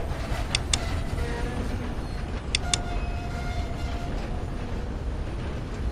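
A train rolls along its rails in Minecraft, giving a steady, close rumble with a few sharp clicks and faint squeals over the top.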